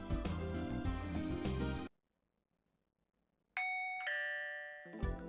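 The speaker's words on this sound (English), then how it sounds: "Ding dong." After loud music cuts to silence, a doorbell sounds its two-note ding-dong, clear and ringing, each tone sustaining briefly before the music returns.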